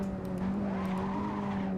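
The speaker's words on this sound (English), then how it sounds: "Ooh, big lockup" A Skip Barber Formula 2000 car locks its brakes in Assetto Corsa, a sustained tire skid squealing over a steady engine drone, loud and continuous for under two seconds.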